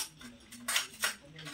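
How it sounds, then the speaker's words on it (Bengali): A metal ladle clinks against the sides of a cup of tea being stirred, two clear bright scrapes standing out over a quiet background hum. "এবার আস্তে করে এটাকে নাড়ি দাও।"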